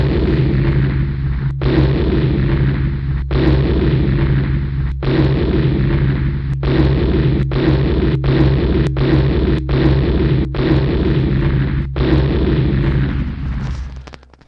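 An animation sound effect of cavitation bubbles bursting in hydraulic fluid: a string of sharp, booming bursts cuts through a continuous low rumble, about a dozen pops at irregular intervals, loud and close.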